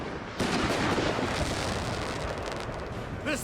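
Several 8-pounder cannons fire in a Napoleon Total War battle, French armies surrounding a small village. A dense, roaring wall of booming blasts and rumble runs loud and continuous for several seconds.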